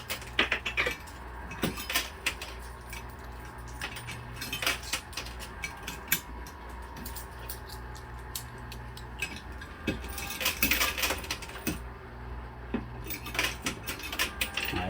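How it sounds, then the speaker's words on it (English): Metal quarters clatter and jingle into a casino coin pusher machine: a busy, continuous stream of small coin clinks and rattles over a steady arcade-floor drone, with no talking. "maybe I'm just going to throw a couple more quarters in here"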